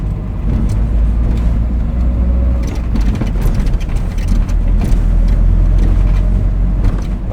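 A Talbot Express van cruising at speed, its steady engine drone and road rumble filling the cabin continuously and loudly, with deep low hum and shifting wind and tyre noise throughout.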